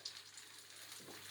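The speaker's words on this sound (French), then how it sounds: "une fois qu'elle est bien trempée, on l'ajoute dans la poêle" An egg-soaked brioche slice for pain perdu lands in a hot pan, giving a soft, steady frying hiss with a faint low swell of sizzle toward the end, heard alone with no talk.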